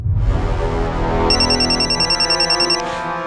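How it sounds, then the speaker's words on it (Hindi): A telephone rings with a steady electronic warble, pulsing in a fast repeating pattern, close and clear after a brief low rumble at the start. "फोन उठाइए, समर का हो सकता है।"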